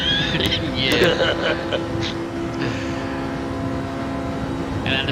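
Race car engine in a sim racing league race, held in 5th gear and revving steadily at mid distance, with commentators talking over it throughout.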